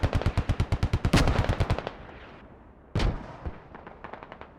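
Rapid machine-gun bursts hammer out in a tight rhythm, then a heavy mortar or explosion thump and scattered later shots ring out in a tactical military video game match, loud and close with no talk.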